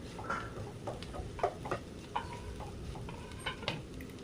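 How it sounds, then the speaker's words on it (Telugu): Onion and egg frying with red chilli powder in a pan, a steady soft sizzle with scattered light scraping and clicks from stirring, close and moderately quiet, no talk. "మనం దాన్ని ఇంకొద్దిసేపు ఫ్రై చేసుకుంటూ ఉండాలి"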